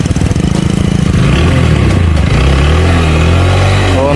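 Motorcycle engine labouring under load on a village road, a steady loud low drone that strains and shifts pitch as it struggles to pull, running throughout with no talk.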